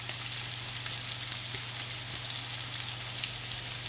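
Green beans frying in a pan for a keto-style green bean casserole, a steady, even sizzle like light rain that holds at the same level throughout.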